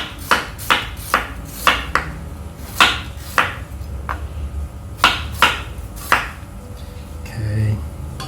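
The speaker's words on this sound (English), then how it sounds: "And for the ginger, we just julienne the ginger." A knife julienning ginger on a cutting board produces sharp, regular chopping taps in a steady rhythm, close and clear, with a brief softer sound near the end.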